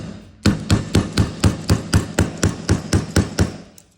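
A hammer drives a pin into a pistol grip resting on a vise block, about fourteen sharp, evenly spaced metallic taps in a quick steady rhythm, close and loud with no talking.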